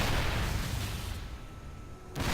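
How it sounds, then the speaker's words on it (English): StarCraft siege tanks fire into clustered units, producing a loud, dense rumble of booming artillery blasts that fades over two seconds before another blast hits at the end. "Huge tank shots going off in those clustered units"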